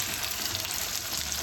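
Salmon fillets frying skin-on in melted butter, a steady close sizzle and crackle of fat filling the pan without pause, no voices.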